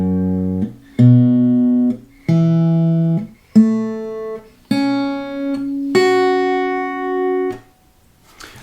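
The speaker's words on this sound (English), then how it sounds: "So the notes of your guitar should sound like this." Guitar strings with a capo on the 2nd fret plucked one at a time, six separate ringing notes rising in pitch at a steady pace, clear and close with no talk.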